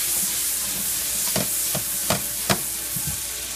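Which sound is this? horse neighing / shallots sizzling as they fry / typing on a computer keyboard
shallots sizzling as they fry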